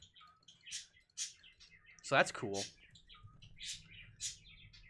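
Pet birds chirp and tweet in a room in short bright bursts throughout, fairly faint, with a voice talking over them.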